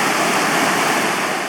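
A glacial river on Iceland's Laugavegur Trail rushes under a bridge in a loud, steady roar of churning water, close by and constant for the whole stretch, with no voices.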